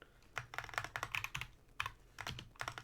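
Typing on a computer keyboard, quick bursts of clicking keystrokes in irregular clusters with short pauses between them, close and fairly quiet.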